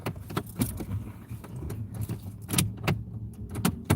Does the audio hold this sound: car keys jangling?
yes